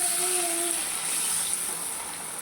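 Water is poured into a pan while cooking a lime tak, a sour dish made with pati lebu, producing a steady, close hiss and gush that runs throughout.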